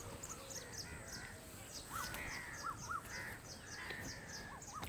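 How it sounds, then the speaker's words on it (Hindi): Distant repeated calls of an Asian koel in a Pakistani village in the evening, faint rising whistled notes spaced through a steady outdoor background with no one talking. "कोयल बोल रही है, लेकिन दूर से बोल रही है।"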